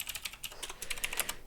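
Quick, light clatter of typing on a computer keyboard, a rapid irregular run of close keystrokes lasting under two seconds with nothing else heard.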